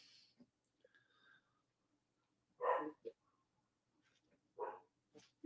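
A dog lets out a few short barks and huffs, close by but fairly quiet, separated by pauses and faint snuffling breaths, with soft scattered noises between them.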